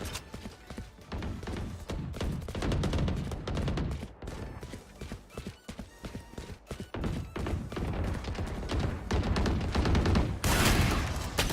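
Rapid bursts of gunfire from a player's weapon in a Valorant-style tactical shooter match, dense and loud, with repeated shots and thuds layered under a busy mix of game sounds.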